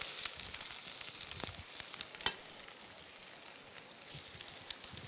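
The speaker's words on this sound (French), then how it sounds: "vous les mettez dans la poêle d'éfale avec la graisse de noix" Belgian endives frying in a pan of walnut fat, a steady soft sizzle and crackle that holds at an even level throughout, with a few brief sharper pops and no talking.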